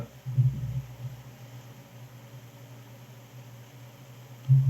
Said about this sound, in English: Wow, that fan is loud.